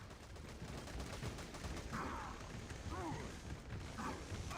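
Squad gunfire in Devil's Third comes as a rattling fusillade of rapid shots with mechanical clacks and a few sharp bursts, moderately faint throughout.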